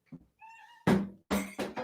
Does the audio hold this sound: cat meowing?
yes